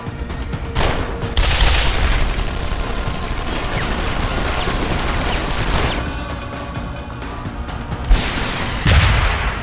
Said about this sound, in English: Nothing like rocket launching to handle one single man.